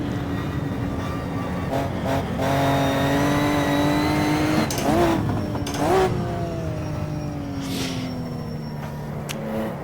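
Maserati 250 race car engine driving a lap, held loud and steady at close range with rising revs, sharp gear-change blips around the middle, and a gradual slowing drone toward the end.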